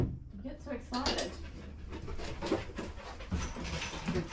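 A dog pants quickly and excitedly before a bath at a groomer's, with short breathy huffs and a faint whimper while someone talks to it throughout.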